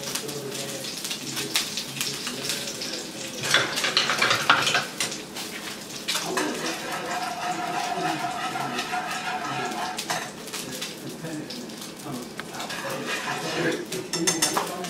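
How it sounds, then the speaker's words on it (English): Ramen noodles get tossed in a pan with a reducing sauce, giving continuous sizzling and frying with clattering and stirring of metal cookware, loud and close throughout. "I'm going to toss my noodles with my sauce right here that's reducing"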